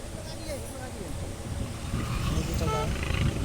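Procession vehicles roll past outdoors in a steady rumble of engines and road noise that grows louder toward the end, with voices talking over it.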